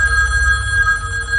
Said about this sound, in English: the phone rang once more